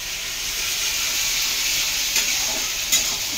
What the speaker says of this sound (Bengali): ভালো করে মশলাটাকে কষিয়ে নেবো।